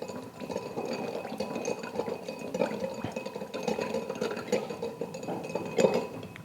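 A bar spoon stirring an oak-aged gin cocktail over ice in a mixing glass, a steady run of light clinks and rattles held for several seconds, close and fairly quiet.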